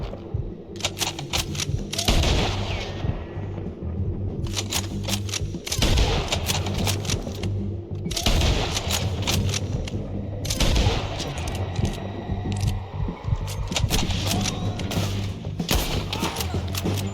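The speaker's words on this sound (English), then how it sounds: "Let's just start shooting" Rapid bursts of gunfire in the Red Dead Redemption 2 video game, loud volleys that come and go in waves over a dense background of game noise.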